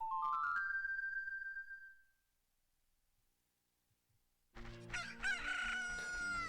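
A rooster crows in the video game Ocarina of Time, one loud rising cock-a-doodle-doo that fades out, followed by a short silence and then a dense burst of game music and sound effects.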